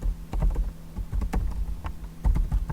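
Quick, uneven keystrokes on a computer keyboard clatter up close in short bursts with brief pauses, the typing sounding alone.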